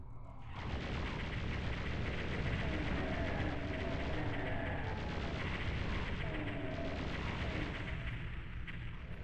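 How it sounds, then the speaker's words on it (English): Plasma gun blasting in Doom on PlayStation, a dense, continuous barrage of rapid electronic shots and impacts filling the scene loudly from start to finish after a brief quiet opening. "Let's get the plasma gun out."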